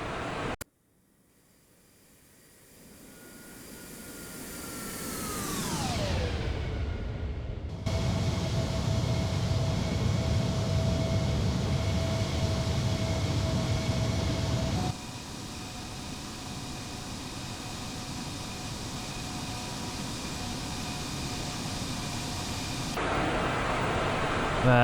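Simulated Embraer E175 airliner in flight with speed brakes deployed, a loud steady broadband rush of airflow and engine noise after a falling whine, holding level with small step changes, no voices.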